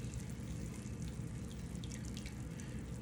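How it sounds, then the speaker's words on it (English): Bacon fat trickles off a pan in a steady, close liquid pour, a continuous wet stream that stays even from start to finish. "Pour off a little more fat."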